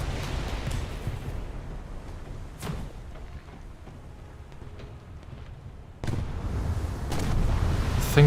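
Naval artillery in a warship video game fires ranging shots at a cargo convoy: a few deep booms and sharp reports over a steady rumble that swells louder near the end.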